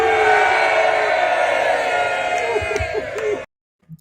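Bengals fans at a crowded football tailgate roar out a loud, sustained group chant, voices merging into one dense shout that cuts off abruptly.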